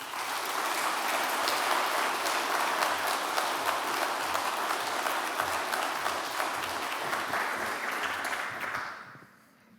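An audience claps to welcome a professor to the podium for his inaugural professorial lecture. The applause is steady, full and sustained for several seconds, then fades quickly at the end.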